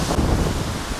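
Gusty wind blowing steadily across an open golf course, a broad rushing roar buffeting the microphone throughout with no voices.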